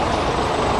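Old buses idle at a bus station in Eswatini, a steady, dense diesel rumble with broad, continuous noise throughout, close and fairly loud with no clear talk.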